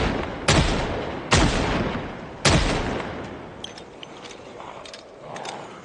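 Three loud, sharp gunshots from Project Zomboid ring out about a second apart, each with a booming decay, followed by faint clicks and clatter as things settle.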